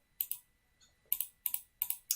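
A computer mouse clicks in crisp, close, isolated taps, about nine in all, coming singly and in quick pairs with short pauses between.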